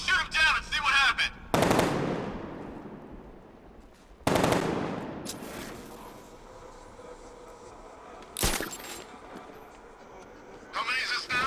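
Gunfire in Batman: Arkham Knight, two loud heavy blasts that roll off into long echoing decays, followed later by a sharp crack, with game voices talking at the start and end.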